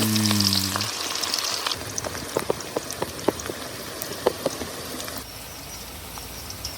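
Onions frying in a pan for a country chicken perattal, a dense crackling sizzle with scattered pops and spatters, steady and close, with a brief tonal hum at the start.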